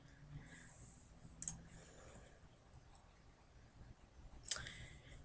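Two small, sharp clicks of a computer mouse, spaced about three seconds apart, used to right-click while working in Revit software, faint and close against a quiet background.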